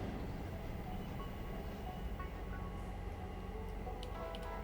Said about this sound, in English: I gotta pull that train out and move it